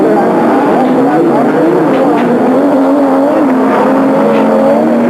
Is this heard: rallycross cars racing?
yes